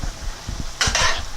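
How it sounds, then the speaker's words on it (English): A spoon scrapes and chops through homemade spaghetti meat sauce in a pan, a brief close burst of wet scraping and soft clacks. "I'm chopping it as I mix it in."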